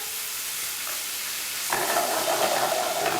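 Beef for a stew browns in a hot pan, a steady broad sizzle that jumps louder midway as more meat hits the fat, continuing close and constant with no talking.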